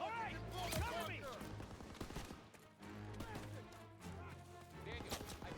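Bursts of rapid automatic gunfire and single shots ring out in a Call of Duty battle, loud and dense, with repeated volleys and echoing cracks over several seconds while players shout over the shooting.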